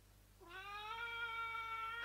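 A pet cat meows indoors, one long drawn-out call that rises and holds steady, close and clear against a quiet room.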